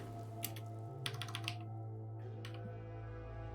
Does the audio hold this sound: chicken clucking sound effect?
no